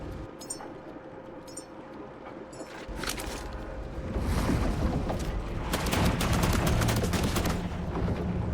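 Gunfire in The Last Caretaker: a few sparse shots early on, then thickening into louder, rapid repeated bursts that build and continue over a rumbling game background.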